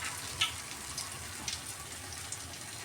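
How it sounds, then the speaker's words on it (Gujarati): Bread pakora deep-frying in oil kept on full heat gives a steady, quiet sizzle with small crackling pops scattered throughout. "એને આ રીતે આપણે આમાં ડીપ કરી અને પછી તળી લેવાના છે."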